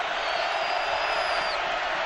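Hostile stadium crowd at a Penn State vs Nebraska college football game roars as a steady, dense wash of noise. A faint high whistle-like tone runs over it.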